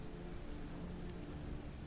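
Steady rain falls in the video game Risen 2: Dark Waters, a dense even hiss of downpour that fills the whole moment without a break.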